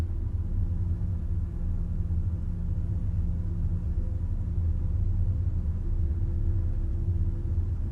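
TBM 930 single-engine turboprop at full throttle on its takeoff roll in Microsoft Flight Simulator 2020, heard as a loud, steady, unbroken rumbling roar with a low droning hum underneath and no talking.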